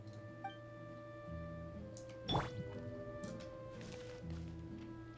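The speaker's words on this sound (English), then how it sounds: "May I pour you a glass of water?" A glass of water being poured in a video game: scattered drips and small liquid splashes with one sharper splashy burst midway, moderately close and quiet, over a steady tonal game music background.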